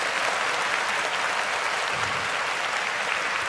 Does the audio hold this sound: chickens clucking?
no